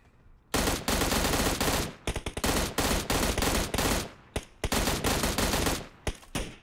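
M16A4 rifle fire in the video game PUBG Mobile, loud close bursts of rapid automatic shots broken by short pauses, with no speech.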